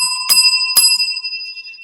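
A bicycle-style bell rings twice in quick succession, two bright metallic dings with a lingering ring, close and fairly loud, with no voices.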